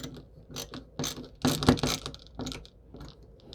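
A screwdriver drives screws to fasten a computer motherboard into a case, giving close, uneven bursts of ratcheting clicks and scraping turns separated by short pauses, with no talk.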